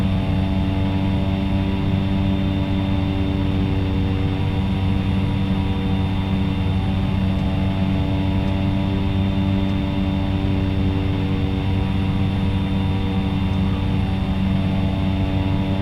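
A propeller-driven general aviation light aircraft engine in the flight simulator X-Plane 11, bush flying in Alaska: a steady, loud droning hum with a constant pitch, continuous throughout with no talk.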